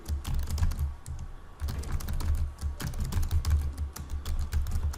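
Rapid, irregular clacking of keys on a computer keyboard while text is typed into presentation slides, close and fairly loud, with brief pauses between bursts of keystrokes.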